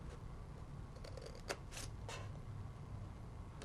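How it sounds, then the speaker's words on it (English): Scissors snip notches into folded card stock for a handmade Season's Greetings pop-up card, giving a few quiet, close cuts with one sharper snap in the middle over a steady low room hum. "So we're going to cut that one and that one."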